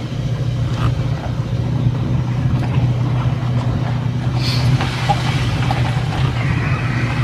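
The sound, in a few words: car driving along a road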